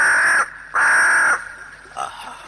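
A giant eagle, the Raja Wali, cries in a radio drama effect, with two long harsh screeching calls close and loud, then a fainter third call.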